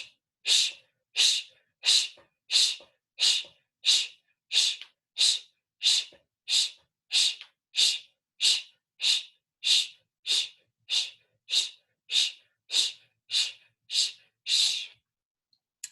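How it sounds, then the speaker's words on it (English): Rapid, forceful nasal breaths from a yoga breathing exercise, repeated about twenty times in a steady fast rhythm of roughly one every 0.7 seconds, close and sharp, with brief quiet gaps between them and no talking. "Oh, and by the way, the breathing goes like this."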